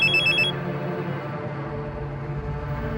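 A telephone rings in a short high trilling burst that cuts off after about half a second, leaving a low steady hum underneath and no voices.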